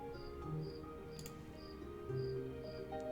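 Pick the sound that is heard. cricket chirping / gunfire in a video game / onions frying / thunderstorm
cricket chirping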